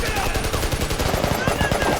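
Gunfire from the action film The Marine: rapid, dense bursts of shots packed into a loud, continuous barrage with other film sound mixed in.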